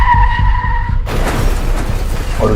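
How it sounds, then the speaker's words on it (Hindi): A car skidding as its brakes fail on the road to a hospital, a sharp tonal tire squeal giving way to a loud, harsh rushing scrape that continues to the end. "हॉस्पिटल जाते हुए रास्ते में अचानक गाड़ी के ब्रेक्स फेल हो गए"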